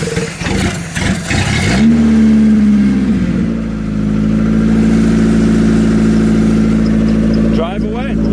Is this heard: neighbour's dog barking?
no